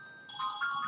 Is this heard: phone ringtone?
yes